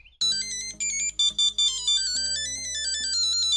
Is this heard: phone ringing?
yes